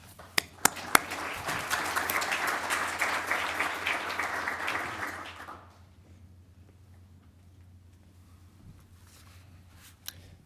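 An audience at a Boston University fiscal leadership summit applauds a speaker stepping up to the podium, steady clapping for about five seconds after a few sharp claps, then fading to a quiet room with faint stray knocks.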